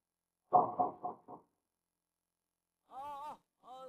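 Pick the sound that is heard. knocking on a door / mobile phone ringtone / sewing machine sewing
knocking on a door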